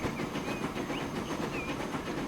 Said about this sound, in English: There's the other train coming in.